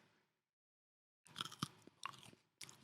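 Someone bites into a chocolatey, nutty edible sticker, giving a few close, crisp crunching chews after a brief silence.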